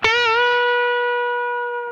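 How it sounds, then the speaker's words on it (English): A distorted electric guitar plays one note on the B string at the 10th fret and bends it up a whole step, then holds it as a loud, clean sustain that rings alone and fades slowly. "if I bend that note a whole step, it resolves to the fifth of the chord or the key"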